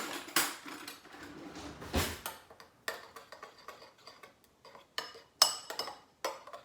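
Spoon mixing homemade pizza sauce with salt in a bowl, a series of irregular clinks and taps, fairly close and alone.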